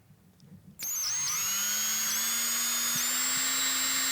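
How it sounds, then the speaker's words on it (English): A power drill bores out a small model part for a steamjack workstation. The motor kicks in sharply and whines loudly and steadily for about three seconds, close to the listener. "let's drill out this guy"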